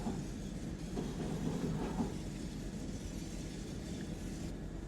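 A DB Bnrdzf cab car train rolls steadily along the Linke Rheinstrecke in a train simulator game, its low continuous rumble of wheels and rails filling the space, with faint clickety-clack and no talking.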